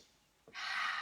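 A demonstration of conscious breathing: after a quiet, hissy lull, a short catch is followed by a strong, sustained airy rush of breath. Close, loud and alone.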